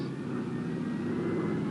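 Transport planes flying over in formation, a steady droning engine rumble close and loud, unbroken throughout with no voices.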